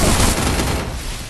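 Dense gunfire from a shooting video game, landing headshots: a loud, continuous fusillade of rapid shots packed together with no pauses, heard alone.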